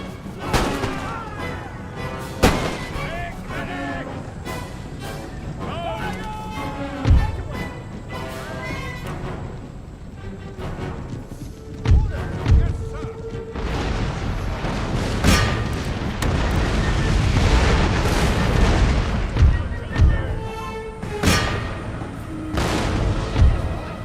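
Musket volleys fired by ranks in the video game Total War: Empire, heard as repeated sharp cracks and booming reports, some single and some in rolling clusters, over a rumbling battle background.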